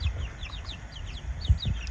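Backyard chickens in a larvae-feeding setup give quick, high chirping clucks in a rapid repeating series, close by, over a low rumbling background with occasional soft thumps.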